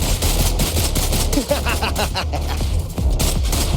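Rapid gunfire from the Wuthering Waves action video game, a loud fast volley of sharp shots rattling almost without pause for a few seconds, alone with no talk.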